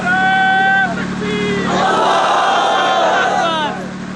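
A large crowd at a Deobandi religious gathering in Sahiwal roars slogans in unison, loud and sustained, with rising and falling collective shouts filling several seconds.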